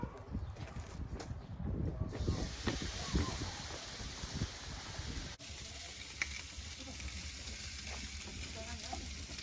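Flap meat sizzles steadily over a hot charcoal barbecue, with a loud continuous crackling hiss and bursts of spitting fat close by that hold through to the end.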